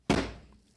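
A single solid tap on a Rough Ryder folding knife with red bone handle, struck to center the blade: one close, dull thunk that decays quickly, followed by a faint small tick at the end.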